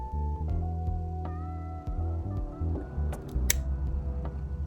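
Scissors snip through a false eyelash cluster during lash application, a few short close clicks over a steady low hum of the room.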